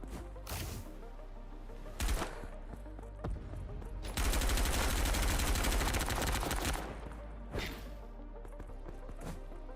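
Video game gunfire: scattered sharp single shots, then a dense two-second burst of rapid automatic fire, followed by a few more isolated shots over a steady background.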